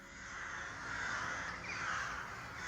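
Crows caw near a graveyard, a steady chorus of harsh, fairly faint calls blended with a constant background wash and no talking.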